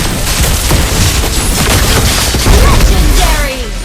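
Rapid bursts of gunfire in the mobile game Mobile Legends, dense and loud throughout, with sharp repeated shots over a steady rumble of game effects.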